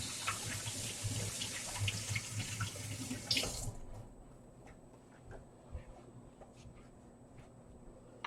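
A tap runs into a sink during washing up, a loud rushing stream for about three and a half seconds that then shuts off, leaving faint handling clatter in a quiet room.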